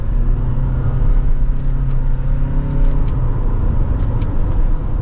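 A 2024 Toyota RAV4 XSE Hybrid with a CVT accelerating in sport mode, heard from inside as a loud, steady engine drone with low rumble that holds and builds slightly, with no talk.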